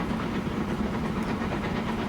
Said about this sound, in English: Past our cargo train with the fuel stuff on it.